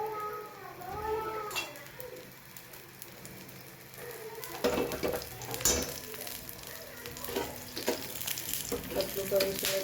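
Oil goes into a pan of roasted semolina batter, setting off a loud, crackling sizzle that swells midway and continues with spatula scraping, after a stretch of quieter cooking sounds and a brief voice early on.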